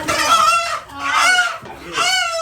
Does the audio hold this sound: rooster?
yes